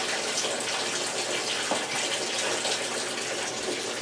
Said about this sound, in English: got my first load of laundry going